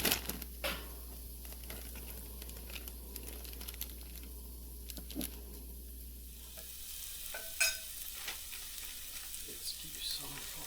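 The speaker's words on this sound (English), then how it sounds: "Now would be the time to add some butter, I think." Butter sizzles in a pan with a constant crackling hiss, joined by scattered scrapes and taps of stirring, and the sizzle grows brighter and louder partway through.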